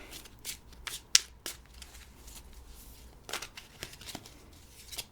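Tarot cards being shuffled by hand, a run of crisp riffling flicks and slaps with a few sharper snaps, close up and alone with no talking.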